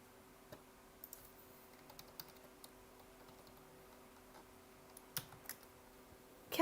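Typing on a computer keyboard while playing The Sims 4, with scattered light key clicks and a few quicker bursts over a faint steady hum, quiet and without speech.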